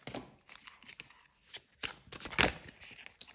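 Tarot cards of the Wheel of the Year deck being shuffled and flipped over, a series of crisp papery riffles and slaps arriving in irregular bursts, close and fairly quiet, with no talking.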